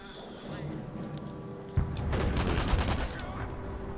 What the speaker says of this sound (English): So they're shooting the side of my tank